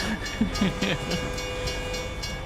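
A train in American Truck Simulator rumbles past with a steady rolling drone and faint tonal whistle-like notes, with someone speaking briefly over it.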